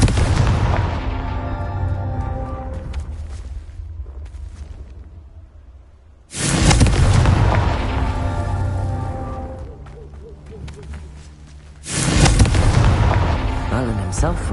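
A Confringo spell explodes in the video game Hogwarts Legacy, producing loud booming blasts with long rumbling tails, three big bursts spaced several seconds apart, close and dominant over game music.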